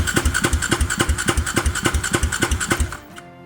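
A small KTM 65 supermoto two-stroke engine runs fast and steady just after a new bearing was fitted, its rapid even put-put pulsing loud and close before it cuts off abruptly near the end.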